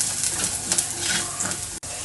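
Spices and cooked clams being stirred in a frying pan for a clam roast, a steady close scraping and sizzling texture with soft utensil strokes and no talk.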